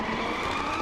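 Tires of a Pro-class drift car skid and squeal loudly and continuously as it slides through a turn at the Baypark speedway track, with a steady roar and no pauses.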